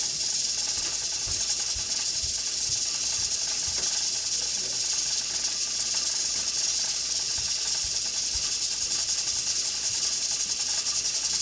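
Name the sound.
pressure cooker hissing and rattling on high heat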